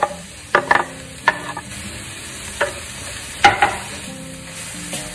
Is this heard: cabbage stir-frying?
yes